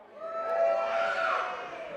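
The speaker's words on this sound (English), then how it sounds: "as you can hear, the crowd are having a great time tonight" A live darts finals night crowd roars and cheers for about two seconds, swelling to a peak and fading slightly, loud and full with many voices shouting together.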